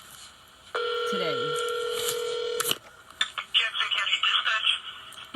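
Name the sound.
telephone dialing and ringing, call to sheriff's department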